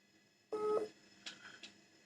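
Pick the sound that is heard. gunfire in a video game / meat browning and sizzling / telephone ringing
telephone ringing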